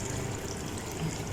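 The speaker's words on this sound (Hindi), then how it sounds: "1 कप मैंने पानी का ऐड कर दिया है। ये दूसरा डाल देते हैं।" Water poured from a cup into a pot of chicken for Hyderabadi chicken tahari, a short steady splashing pour, close and moderately loud.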